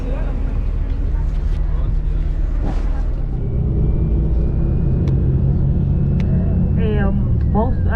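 A tour bus drives along a road near Cardenas, Cuba, its engine giving a loud, steady low rumble from close inside, with a few brief rattles and squeaks and some voices underneath.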